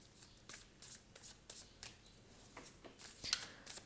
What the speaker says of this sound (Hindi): कार्ड्स मैं इंट्यूटिवली निकालूंगी